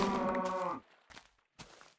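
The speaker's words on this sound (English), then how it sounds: "These cows are so loud." Cows moo in Minecraft, a long loud blocky bellow followed by two shorter, fainter moos, with no talk over them.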